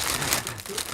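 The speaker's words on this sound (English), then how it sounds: "it's actually the plastic bag from Animate" A plastic shopping bag from the Animate store crinkles close to the microphone, a continuous dense rustle with no speech.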